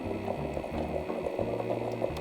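A Keurig coffee maker brews while overheating and smoking, its boiling water gurgling and bubbling steadily with a rhythmic mechanical pulsing underneath, loud and close with no voices.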